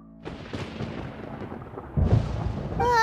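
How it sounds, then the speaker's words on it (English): Deep rumbling thunder from a storm in the Genshin Impact video game, a low sustained roll that swells louder near the end, with a bright musical chime entering at the close. "Paimon hears thunder!"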